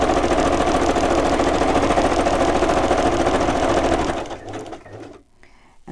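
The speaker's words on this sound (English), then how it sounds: "let's stitch across the top here, and I'm going to zigzag it" A home sewing machine runs a zigzag stitch across fabric, a steady close whirring drone for about four seconds before slowing and stopping, followed by light handling noises.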